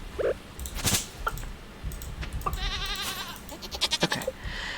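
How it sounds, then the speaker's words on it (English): A goat in Stardew Valley bleating with short wavering cries, mixed with chirpy game effects and soft clicks, fairly close and moderately loud. "Why is the goat behind a tree?"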